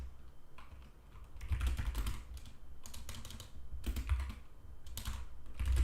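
Quick keystrokes on a computer keyboard come in irregular bursts and steady runs of typing, close and fairly clear, with no voices.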